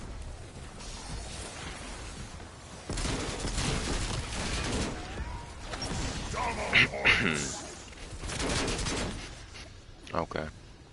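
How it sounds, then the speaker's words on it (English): A sentry turret fires in a zombie video game, with bursts of rapid gunfire and crashing impacts that come and go over several seconds, mixed with game noise and heard alongside spoken voices. "Sentry turret operating."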